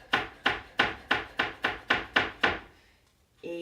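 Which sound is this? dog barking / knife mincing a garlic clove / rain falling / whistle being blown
knife mincing a garlic clove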